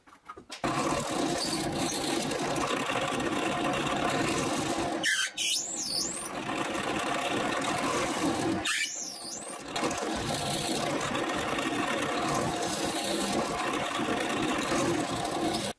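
Power drill boring a row of six holes near the end of each wooden board, a steady loud whine running almost continuously with two short pauses between holes, no talking.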